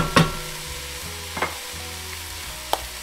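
Root vegetables cook down in a pan to caramelize, giving a continuous sizzle broken by three sharp stirring clatters spaced about a second apart, with no voices.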